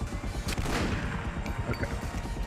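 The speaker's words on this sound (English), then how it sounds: "are they shooting missiles at you now?" Gunfire and missile blasts from The Punisher (2005) video game, a dense, rapid barrage of shots with heavy booming impacts, loud and continuous throughout.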